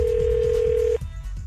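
A telephone line connecting for a radio prank call, with a steady tone for about a second that cuts off into quieter line noise, heard alone.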